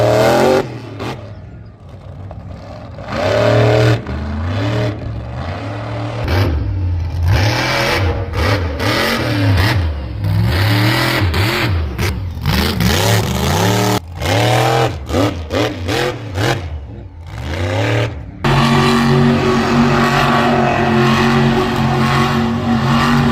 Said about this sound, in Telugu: టైర్ బర్నింగ్ కూడా చేస్తున్నారు